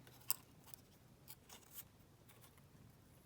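Scissors snipping paper for a junk journal, a few quiet, separate cuts with one sharper snip near the start, then soft rustles in an otherwise hushed room.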